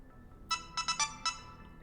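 A phone ringtone goes off during a Mass Effect Legendary Edition game session: four or five short, bright melodic bursts in quick succession, clear over a low background hum, with no talk.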